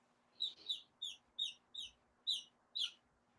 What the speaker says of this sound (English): Chirp chirp.